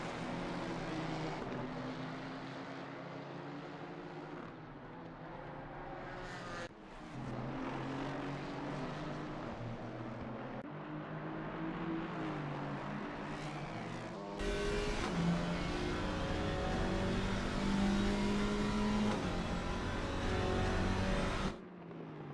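Alpine race car with a 1.8 litre turbocharged inline-4 at Watkins Glen, engine droning steadily at high revs and shifting pitch through gear changes, growing louder and nearer partway through, with no talk.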